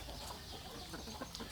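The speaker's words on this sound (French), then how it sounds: "Il y a 2 coqs, hein." Clucking from chickens at a farm in northeastern Thailand, where two roosters are kept, comes through as a steady close murmur with a few short cackles near the end.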